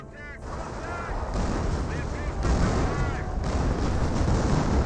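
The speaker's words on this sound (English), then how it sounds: "there's a creeping barrage" Creeping artillery barrage in the Company of Heroes video game, a sustained rumbling wash of distant blasts and booms with faint whistling shells, steady and heavy throughout.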